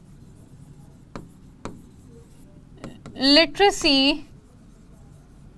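Marker or chalk strokes on a classroom board during an adult literacy report lesson, a few brief scratchy taps followed by a teacher speaking.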